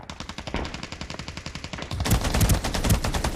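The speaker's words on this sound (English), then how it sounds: "Does hear that there's other teams shooting over here" Rapid automatic gunfire from other teams in Ring of Elysium, a steady rattling burst of shots that grows louder and heavier partway through, sustained without pause.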